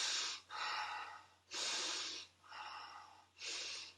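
A person draws several big, deep breaths into the upper chest, high around the collarbones, each a loud, close, airy inhale and exhale in a steady rhythm with short pauses between.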